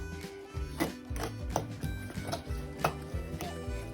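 A spoon works Betty Crocker dark chocolate muffin batter with banana bread mix in a bowl, giving a steady rhythm of close clinks and scrapes against the bowl.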